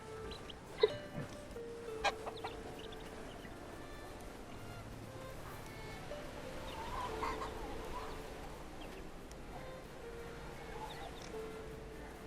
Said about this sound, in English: We got little chicks.